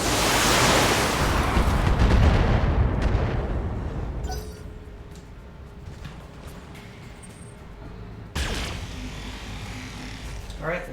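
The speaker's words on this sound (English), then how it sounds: "Let's do a precision strike on the behemoth." A precision artillery strike lands in the Battletech video game: a heavy rumbling roar of explosions that swells and slowly fades, followed by quieter rumble and a second sharp impact near the end.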